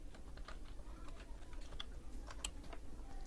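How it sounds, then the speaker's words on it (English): Quiet, close typing on a computer keyboard, a steady run of light key taps with a few sharper clicks, alone with no talk. "Type the characters in this image here in the bar."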